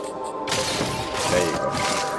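A bomb blast in the video game Metroid Dread erupts after a brief quiet start, a loud broadband crash with a shattering, crumbling tail that lingers for nearly two seconds.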